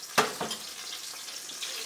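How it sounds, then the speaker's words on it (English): Blueberry juice hits hot olive oil in a pan and sizzles while pancakes cook, starting with a sharp hiss, then a second pop, then a soft ongoing crackle. The sound is close and moderately loud, with no voices. "The water, the liquid from the blueberries, the moment they hit the olive oil,"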